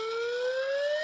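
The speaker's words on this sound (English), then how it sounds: "As soon as you said Cobden Carnage, the self-promotion alarm just went off" A rising electronic alarm siren wails continuously, steady and loud, climbing slowly in pitch with no voices over it.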